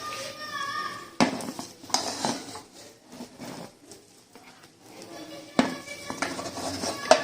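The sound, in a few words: dishing out mater pulao from the pot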